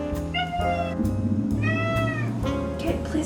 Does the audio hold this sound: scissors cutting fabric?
no